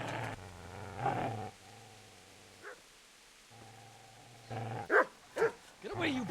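Dog barks in the medieval game Kingdom Come: Deliverance, a few sharp yelps near the end after a stretch of low droning tones, with a voice over part of it.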